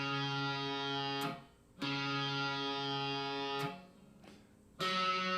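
Heavily distorted electric guitar plays the low open D string tuning note over and over, each sustained for a second or more and separated by short gaps.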